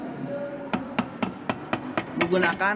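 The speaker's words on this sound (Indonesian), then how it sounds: "Harus menggunakan palu plastik, jangan menggunakan palu besi ya." A plastic hammer taps a Toyota Avanza transmission case about eight times in a steady, evenly spaced rhythm, each blow a sharp, close knock over a low background hum, with a brief rattle near the end.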